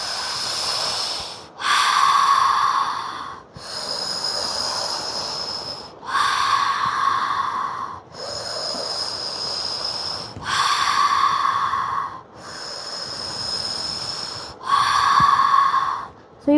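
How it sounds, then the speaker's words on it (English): A person doing a fascial maneuvers class breathes in and out through the mouth in a steady rhythm, eight loud, close, airy breaths of about two seconds each, with a wheezy edge and no talk over them. "Breathe in through the mouth and move your feet."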